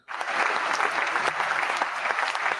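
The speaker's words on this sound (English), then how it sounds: "I was waiting for the long applause to end." A studio audience bursts into loud, steady clapping that begins abruptly and continues evenly throughout, dense and close with no voices standing out.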